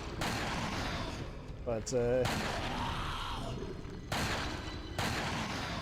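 Heavy gunfire from a big gun aimed at a monster in Resident Evil 4, several loud booming shots in quick bursts amid game noise, with a voice speaking briefly.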